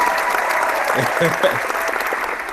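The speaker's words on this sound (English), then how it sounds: "we're gonna send you off with a round of applause." Clapping from a crowd at a live-streamed sports gaming show fills the clip, steady and moderately loud, with voices talking faintly underneath.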